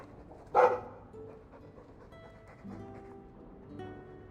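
A single short dog bark sounds in the Dragon Age 2 video game, followed by faint ambient game sound.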